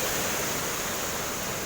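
Water pours steadily into the Kerasak River from a channel feeding a hydroelectric plant, giving an unbroken broadband rush like a waterfall, even and fairly close, with no voices.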